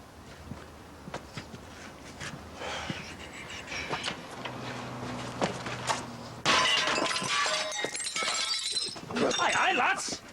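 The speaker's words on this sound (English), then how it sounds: "Do you have to break the window?" A glass window is smashed partway through, a bright crash and tinkle of shards that follows softer thumps and footsteps, with people talking around it.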